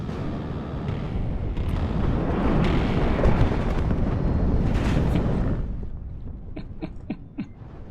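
Laser-guided bombs strike tanks in the Cold War strategy game WARNO with a long, heavy rumbling blast that swells and holds for several seconds, then fades into a few small sharp crackles.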